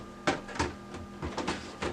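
A drum unit slides into an Okidata MC363 printer with a series of plastic clunks and knocks, five or six distinct thumps in an uneven rhythm, close and fairly loud, with no talking.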